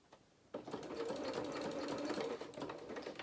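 A sewing machine starts abruptly and stitches steadily through several layers of lined curtain fabric, a close, even mechanical whir with rapid needle ticking that runs for nearly three seconds before easing off.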